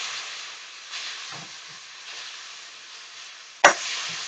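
Beef warming in a pan gives a steady soft sizzle and hiss throughout, with a few faint low bumps and one sharp scrape or clatter near the end.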